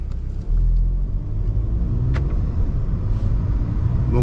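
A VW Golf 7 GTD diesel engine running in eco mode gives a steady, low rumbling drone heard from inside the car with the windows slightly open, smooth and constant with road noise.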